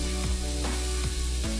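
Indofood green balado sambal poured into a hot pan sizzles loudly and steadily, with a close, continuous hiss and a low hum underneath throughout.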